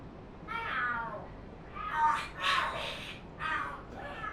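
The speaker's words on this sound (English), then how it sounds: "Oh, are there cats fighting? What are they screaming for?" Cats in Lost Judgment yowl and screech in a fight, several sharp drawn-out cries in bursts, moderately loud against a quiet background.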